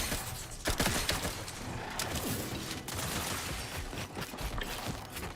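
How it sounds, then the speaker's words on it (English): Rapid gunfire crackles in a first-person video game, a dense fusillade of shots and mechanical clatter layered with footsteps, at moderate loudness and fairly continuous. "Stop shooting us."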